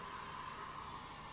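Hair dryer blowing steadily on hair, a constant close whooshing drone with a breathy hiss that holds even throughout, no voices over it.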